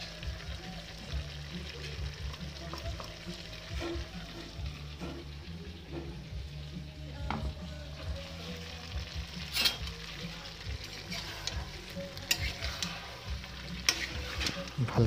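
Ginger-garlic and chili paste stirred in hot oil for a duck curry, giving a steady close sizzle with repeated scraping spoon strokes throughout.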